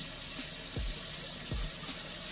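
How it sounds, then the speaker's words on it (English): Running water from a sink tap during a face rinse, a steady hissing flow broken by two quick splashes of water scooped up, close by. "I'm gonna grab some water and rinse"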